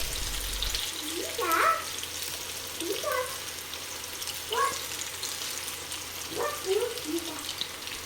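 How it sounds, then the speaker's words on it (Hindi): Pakoras frying in hot oil give a steady, faint sizzle throughout, while a voice speaks intermittently over it. "जब तेल गरम हो जाए तो गरम तेल में पकोड़े डालें।"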